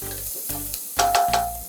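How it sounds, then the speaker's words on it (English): Pimentos, garlic and sweet peppers sizzle in butter in a pan, a steady close frying crackle with a few louder spits and stirring bursts, no voices. "She's caramelizing it with the butter."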